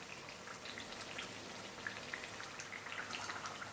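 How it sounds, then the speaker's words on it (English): Vegetable pakoras fry in hot oil with a soft, steady crackle and fine scattered sizzling pops, close but quiet, with no talk over it. "carefully add them to the hot oil. Flip the pakoras every 30 seconds or so and fry till they're golden brown and crisp on both sides"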